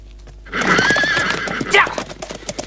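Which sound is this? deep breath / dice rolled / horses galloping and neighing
horses galloping and neighing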